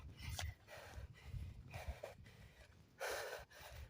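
Heavy breathing of a person walking uphill toward a mountain, with several close, sharp gasping inhales and exhales in an uneven rhythm, the last one loudest.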